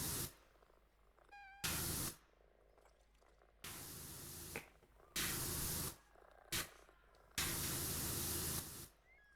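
Kittens purr softly and steadily in a cleaning video game while a power washer sprays in five loud bursts of hissing water, some long and some brief, with quiet gaps between them.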